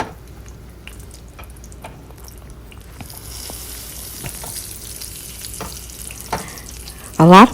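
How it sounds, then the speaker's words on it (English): Eggplant frying in a skillet over medium-high heat gives a steady, fairly loud sizzle with faint stirring and dripping sounds, and a brief louder scrape near the end. "Place your eggplant in your skillet. And I have it on medium-high."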